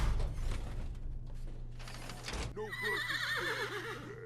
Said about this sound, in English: This thing makes a horse whinnying sound every time you enter it.